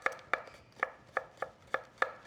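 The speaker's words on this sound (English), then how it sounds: "You can cut it like that in half, and then you have kind of half moons." A knife chops through a vegetable on a cutting board, slicing it into half moons with seven steady, evenly spaced crisp knocks, close and moderately quiet, with no talking.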